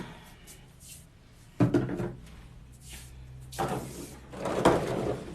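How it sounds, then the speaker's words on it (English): Wooden drawers slide and bump shut as paints are put back into them, a few close, separate knocks and rattles with quieter shuffling between, no talking. "I'm going to go back over and just put the paints back in the drawers."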